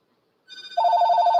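A telephone rings with an incoming spam call, a steady electronic warble that enters softly and then grows louder and continuous, heard alone with no voices.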